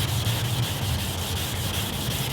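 Wet sanding on a car paint job makes a steady, close, continuous rubbing hiss with soft rhythmic strokes throughout and no pauses.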